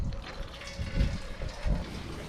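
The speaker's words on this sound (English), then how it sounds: "I'm going to be draining out the coolant." Coolant drains from the radiator of a 1999 Toyota Camry, a continuous watery rush with a couple of heavier gurgling surges, close by and without speech.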